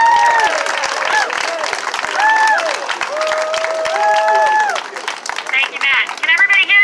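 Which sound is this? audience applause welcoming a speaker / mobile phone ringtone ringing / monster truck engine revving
audience applause welcoming a speaker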